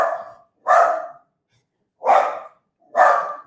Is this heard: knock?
no